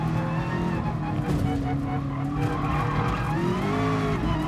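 A race car in Gran Turismo Sport skids and loses grip, with sustained tire squeal layered over engine tone, loud and continuous throughout.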